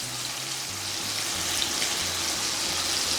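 Chicken pieces and onions sizzle in a hot pan with a steady, crackling fry and a constant hiss, alone with no talk.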